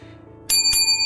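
A notification bell sound effect, two quick bright metallic dings, the second one ringing on clearly, crisp and close after a low murmur.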